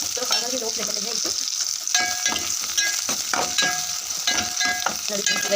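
Ingredients for tomato chutney fry in oil over a low flame, a steady bright sizzle with repeated scraping and clinking of a spatula stirring in the pan.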